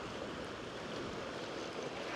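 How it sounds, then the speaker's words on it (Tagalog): Strong ocean surf and current roll in steadily off Jeju Island, South Korea, as a loud, continuous broadband wash with wind buffeting the microphone and no distinct breaks between waves. "Ang lakas ng current, ang lakas nung alon, and ang lamig pa."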